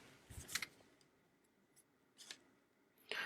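Scissors snipping ribbon while making a pop-up card: several short, close, crisp cuts separated by pauses, with no talk over them.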